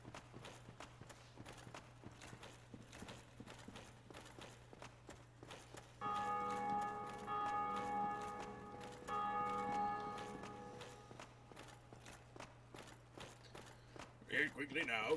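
An underground bell in Dark Souls Remastered rings out in sustained, resonant tones for about four seconds midway through, over footstep-like game ambience and a steady low hum.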